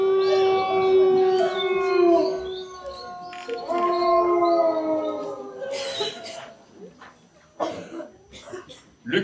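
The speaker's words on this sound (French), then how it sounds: "Et depuis ce matin, les loups étaient sortis des bois." Wolves howl in a wintry countryside, long wavering overlapping tones rising and falling for several seconds, followed by rougher barking and coughing-like calls toward the end, moderately loud with no talk.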